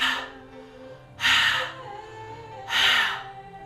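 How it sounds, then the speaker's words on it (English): Three loud, throaty breaths pushed out through hands cupped like a megaphone, each a rough, airy whoosh lasting about half a second with pauses between them. "Make a little megaphone and take 3 throaty breaths here"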